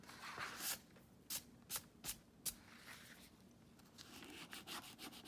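A finger rubs ink onto a Bible journal page, a soft quiet scuffing with several brief brighter strokes and swipes, close and alone with no talk.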